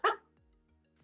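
A dog gives a single short, sharp bark close by, followed by near silence.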